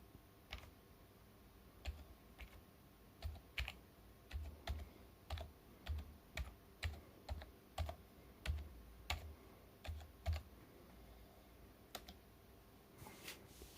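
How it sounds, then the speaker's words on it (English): Keyboard keys tapped in quick irregular bursts while a password is entered, close and fairly quiet, with short pauses between groups of keystrokes over a low steady room hum. "I'm gonna put the phone onto the power supply while I type in my password."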